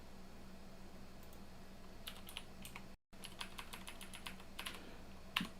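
Quiet clatter of fingers typing on a computer keyboard in short irregular runs of keystrokes, close by over a low steady hum, with a brief pause midway.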